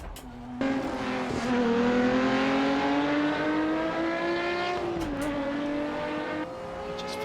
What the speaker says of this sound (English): The sounds. The gear changing sound. The sounds when you come off throttle.